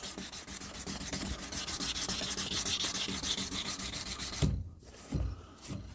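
Rhythmic back-and-forth rasping of 400-grit sandpaper on a drop point hunting knife blade, close and steady for several seconds before breaking into a few separate strokes.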